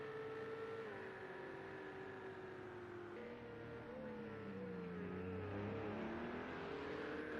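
Sim race car on the Algarve circuit rolling through pit lane, a steady droning engine with shifting pitch and a brief rise in revs, heard alone with no talk.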